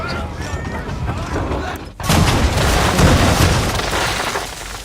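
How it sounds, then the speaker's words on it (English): Ship's broadside cannons boom in a naval battle in Assassin's Creed III, a loud sustained burst of gunfire and explosions after a brief pause, rumbling on for several seconds. "Bring around broadside, and when all guns are on target, call fire."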